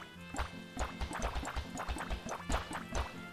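Liquid splashing and dripping in bursts while water is filled in the video game KRFT, with repeated short watery plops and trickles over a steady low game hum.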